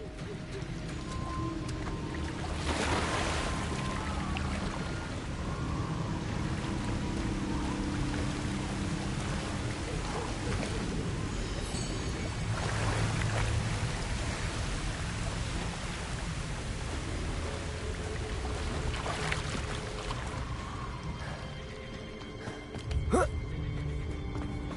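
Rushing waterfall in the Hogwarts Legacy video game, a steady broadband roar of falling water with brief louder swells and a sharp knock near the end.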